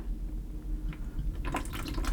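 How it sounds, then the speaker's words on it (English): Water drips from the bottom of a pump in a PC water-cooling loop being drained on a Threadripper 1950X build, a few soft irregular drips and trickles heard close up over a low background hum. "I'm worried about it coming out of the bottom of the pump because no, I thought I saw it dripping"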